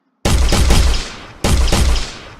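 Turrets in a UE4 video game fire projectiles in two loud, close bursts of rapid shots, each a rattling volley that fades before the next begins, with no talk.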